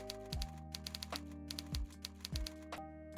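Quick clusters of key taps on a new computer keyboard, crisp and fairly close, sounding over a steady background hum.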